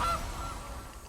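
A single short goose honk rings out in the MtG Arena card game, a brief nasal call at the start that fades quickly into quiet background.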